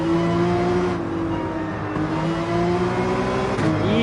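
A race car engine in Gran Turismo 7 drones loudly and steadily at the Nürburgring, pitch holding then dipping and rising again as the throttle is worked, close and continuous with no talking.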